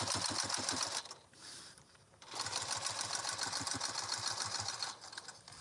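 Sewing machine stitching a seam on a bag, a quarter inch from the edge. Rapid, rhythmic mechanical clatter runs close by, pauses for about a second, then resumes in an even run before stopping.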